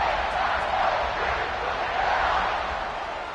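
Stadium crowd in an American football video game roars steadily and loudly throughout, a dense sustained wash of cheering with no clear breaks.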